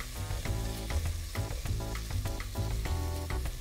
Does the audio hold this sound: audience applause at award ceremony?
no